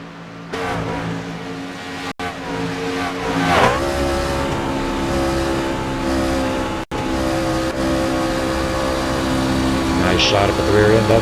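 Race trucks running an autism awareness paint scheme roar around a track in a steady, loud engine drone with shifting pitch and a surge of acceleration, while a commentator talks over them throughout.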